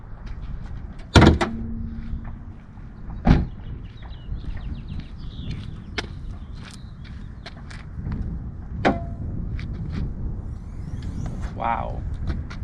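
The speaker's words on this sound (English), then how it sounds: "I'm gonna go ahead and open it, and let's see how it opens up." A Mustang hood fitted with hydraulic struts in place of the prop rod gives a loud metallic clunk, a second solid thud moments later, then quieter creaks and rustling as it rises and settles.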